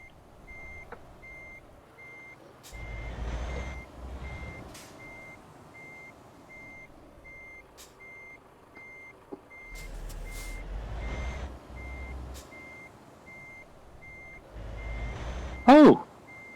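Truck reversing alarm in Euro Truck Simulator 2, a steady evenly spaced beeping running throughout over a low diesel engine rumble, with a brief louder squeal near the end.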